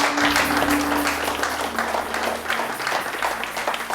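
Church congregation clapping together, loud and close, with a sustained hum of voices and shouts running beneath the steady applause.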